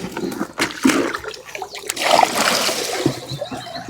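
Water splashes and pours in bursts while someone washes things off, loud and close, with brief clattering between the gushes and no talk.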